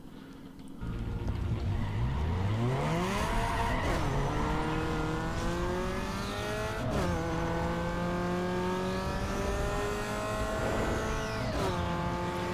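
A turbocharged street-tuned race car in Need for Speed Underground 2 revs hard through rising gear sweeps, with quick shifts marked by sharp drops in pitch and a brief tire squeal, loud and close throughout.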